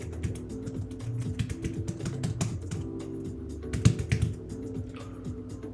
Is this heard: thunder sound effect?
no